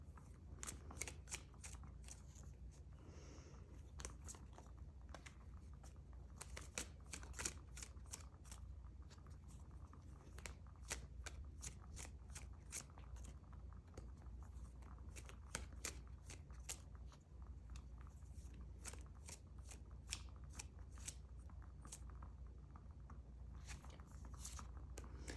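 A deck of tarot cards is shuffled by hand to draw a card, giving a steady run of soft, crisp riffling clicks and card snaps, close but quiet, with no talking.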